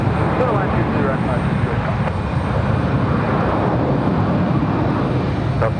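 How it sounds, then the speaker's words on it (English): Airbus A320 airliner rolling out on the runway after touchdown, a steady, loud roar of engines and rushing air that holds evenly throughout with no clear change. "Absolutely smooth touchdown for the A320."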